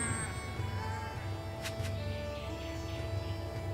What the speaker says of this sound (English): Now we have a bunch of sheep following us.